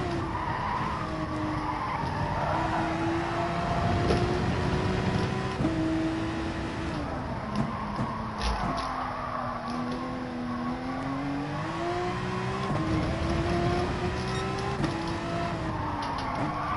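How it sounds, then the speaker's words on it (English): Tyres skid and squeal as a car drifts on cold tyres in a racing video game at Brands Hatch, a continuous engine drone with wavering pitch running steadily throughout, loud and close with no talk. "that's got a bit of drift on with the cold tyres"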